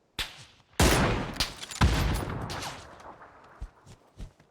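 Gunfire in the battle royale game PUBG: a couple of sharp, loud shots followed by a rapid burst and scattered later shots fading into quieter reports, heard close up with no talking.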